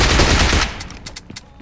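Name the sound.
automatic gun firing in a video game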